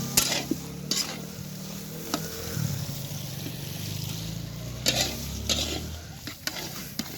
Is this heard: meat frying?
yes